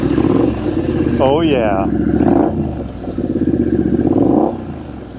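A Triumph Street Scrambler 900 fitted with British custom slash-cut pipes revs and pulls away. Its engine note is loud, close and steady, rising and falling over several seconds, while a rider's voice shouts over it.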